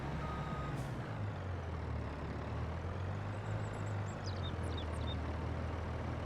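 Truck hauling a trailer backs up in Farming Simulator 22, repeated reversing beeps sounding over a loud, constant engine rumble with no talking.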